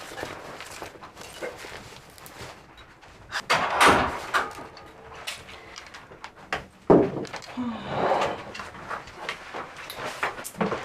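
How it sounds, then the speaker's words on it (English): A door in a Nigerian drama scene opens and thuds shut with a solid knock near the middle, amid footsteps and room movement, with a few other bumps and knocks around it. "Door."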